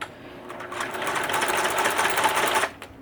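Sewing machine running steadily as it stitches a narrower, slightly longer stitch on a homemade fabric face mask, a continuous close mechanical whir for about two seconds before stopping.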